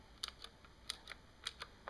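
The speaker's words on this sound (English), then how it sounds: "Every key clicks, as it should," Clicky Cherry MX Green mechanical keyboard switches, about eight separate crisp key clicks in an uneven typing rhythm, faint and fairly close against a quiet background.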